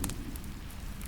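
Gentle rain patters in a soft, steady hiss with faint scattered drops and a low crackle, heard alone at low volume.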